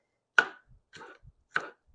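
A knife chopping Anaheim peppers thinly on a cutting board, three crisp separate chops about half a second apart, close and clear in an otherwise quiet kitchen.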